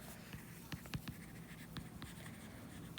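A pen scratches across paper while a chemistry table is written out, with soft irregular strokes and taps close by over a low background hum.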